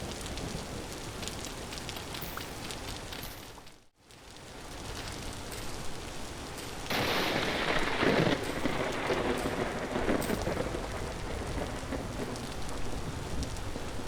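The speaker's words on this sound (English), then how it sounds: "Okay, so I was almost struck by lightning." Steady rainfall in the Vintage Story survival game, a continuous hiss that swells louder partway through as a storm builds, with a brief dropout before the heavier downpour.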